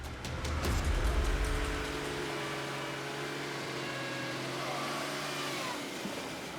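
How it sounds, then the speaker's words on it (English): A car engine revs hard as the vehicle struggles through water-filled crevices on a rough road in Congo, a loud surge at first settling into a steady straining drone with shifting pitch that fades slightly near the end. "Our car struggles to get to the ravine, despite several attempts due to crevices full of water."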